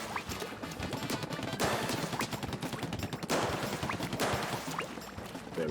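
Rapid weapon fire in Splatoon 3, loud dense bursts of shooting running continuously with sharp cracks and splats over a busy game soundscape.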